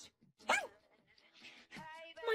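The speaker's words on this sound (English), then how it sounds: "My childhood dog, Biscuit!" A childhood dog barking, a single sharp bark early on followed by whimpering, yelping tones, with voices talking around it.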